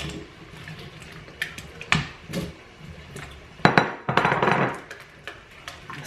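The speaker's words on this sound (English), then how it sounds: "And now I'm going to add in these potatoes." Potatoes tumble into a pot pie dish in a home kitchen with an oven preheated to 400 degrees, making a few clattering knocks and clinks of food against the dish, the loudest bursts near the end, with no talk.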